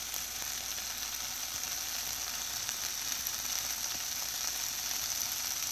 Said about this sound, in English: And now I'm going to add some garlic to the greens.